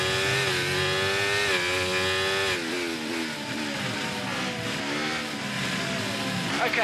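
Formula 1 car engine racing around Imola in the F1 24 video game, a loud continuous high-pitched whine that climbs and drops with gear shifts, with the car struggling for traction.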